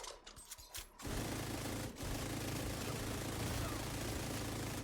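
Sustained, dense automatic fire from a high-RPM light machine gun in The Division 2, loud and continuous after a short quieter opening, with a brief dip near the two-second mark before the rattling burst resumes.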